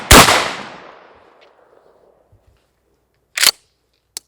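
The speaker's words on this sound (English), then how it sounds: "now I chambered it, so I should probably shoot it" A pump-action shotgun fires one loud, sharp blast close by, its boom decaying over about a second, followed by two quick metallic clacks of the pump being worked, with no talk.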